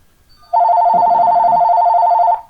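A telephone ringing indoors in a sunroom, one long electronic trill with a fast warbling pulse, loud and close, sounding alone.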